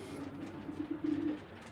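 Racing pigeons coo in a loft, a low, rolling coo that swells and repeats several times at close range, with no talking over it.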